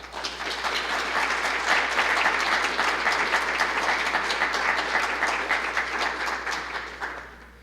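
An evening lecture audience gives sustained, dense applause to welcome the speaker, a full room of clapping that holds steady for several seconds before tapering off.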